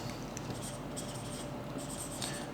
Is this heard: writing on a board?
yes